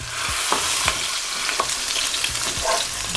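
Lamb shanks sear in a hot pan with a steady, close sizzle and crackle, broken by a few sharp clinks and scrapes as the meat is turned.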